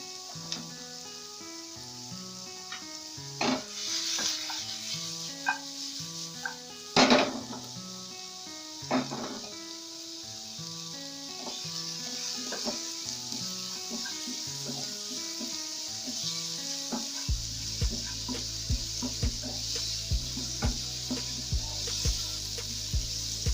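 Vegetables, French beans and broccoli, stir-fried with spices in a pan sizzle steadily, with clattering utensil knocks and stirring scrapes throughout and a faint musical tone entering near the end.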